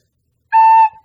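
A recorder plays the note A once, fingered with two fingers down, a pure steady tone lasting under half a second that trails off softly, heard alone in a quiet beginner lesson.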